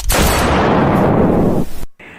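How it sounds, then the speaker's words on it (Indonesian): A single very loud gunshot, fired by someone chasing a fleeing person, bursts out as a harsh sustained blast that rings for over a second and then cuts off abruptly, with no speech. "terdengarlah suara tembakan yang sangat keras"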